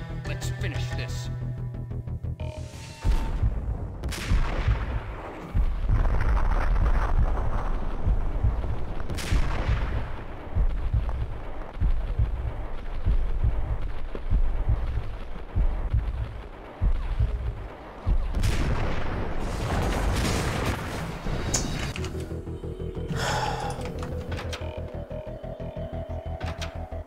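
Heavy gunfire in the Max Payne shooter game, repeated loud booming shots and bursts spread across a long firefight, with brief pauses between volleys and a quieter tonal stretch near the end.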